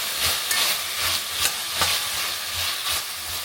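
Carrots and cabbage seasoned with pepper and salt are stir-fried in a pan, a loud steady sizzle broken by rhythmic scraping stirs roughly every half second.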